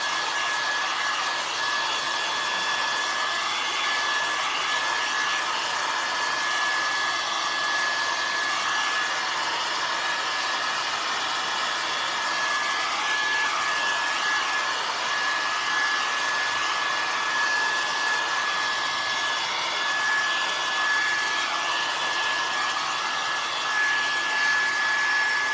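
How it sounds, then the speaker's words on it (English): Continuous blowing whir of a handheld heat tool drying a craft project, a steady broadband hiss with a constant whine that stays loud and unchanging for the full stretch, no talking. "gonna use my heat tool"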